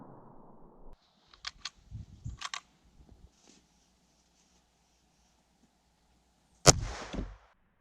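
A single sharp CCI FMJ .17 HMR rifle shot fired into ballistic gel, one loud crack standing alone after a stretch of faint handling clicks and rustle.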